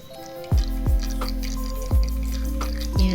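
Oil dripping from squeezed onion paste, several distinct heavy drops falling one after another at uneven intervals, close and fairly loud, with no talking.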